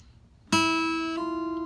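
A single guitar note picked on the E string, followed by one hammer-on to a second note that rings on and slowly fades, quiet and close with no talking.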